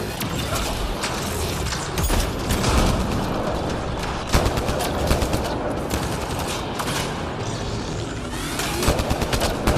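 Sustained turret gunfire in the sci-fi shooter Mass Effect Andromeda, a dense, loud barrage of rapid shots and mechanical clatter that continues without pause, layered with game effects and booms.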